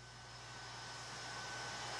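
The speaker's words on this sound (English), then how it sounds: "the NASA plane pulling into the hangar out at Ellington" A NASA plane taxis into the hangar at Ellington, its engines giving a steady broad roar that swells slightly louder, with no talk over it.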